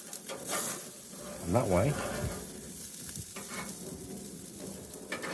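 Wagyu black treacle bacon burgers sizzle steadily in a pan, a continuous close frying hiss beneath a man's brief speech.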